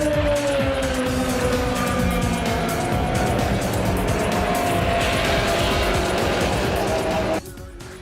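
Race cars at speed on a racetrack in Canada with a field of about 40 cars: loud, continuous engine roar and passing whines with some tire squeal, cutting off abruptly near the end.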